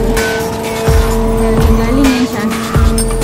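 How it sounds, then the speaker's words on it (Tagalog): A train pulls in at Ocean Park in Hong Kong, with a sustained mechanical hum and tonal whine, rolling wheel noise and a few sharp squeals and clunks, close and fairly loud with no talk. "Ayun na pala ang train."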